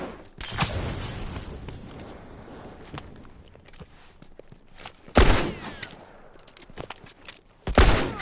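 Rifle fire in The Last of Us: a few sharp, loud gunshot bursts near the start, middle and end, separated by quieter stretches of footsteps and ambient movement.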